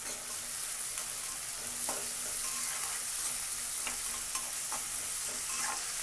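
Vegetables for an egg tomato curry sizzle steadily in a hot pan, with a continuous close frying hiss and a few soft stirring scrapes.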